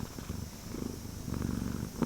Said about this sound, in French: la créature, enfin le chat, s'installe confortablement et ronronne de plus belle